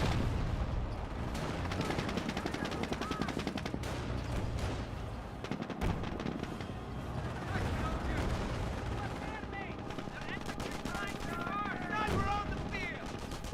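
Mortar hits and rapid .30 caliber machine gun fire in the World War II strategy game Company of Heroes, continuous rattling bursts and booms throughout, loud and dense, with voices mixed in.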